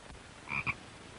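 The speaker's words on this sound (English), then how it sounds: "Oh, a frog!" A frog croaks twice in quick succession, two short raspy calls close by in an otherwise quiet indoor setting, with no voices.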